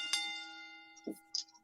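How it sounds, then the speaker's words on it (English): A ring bell at a wrestling championship event is struck once, leaving a bright metallic tone that hangs and slowly fades, followed by a couple of short faint knocks. "And once this bell rings"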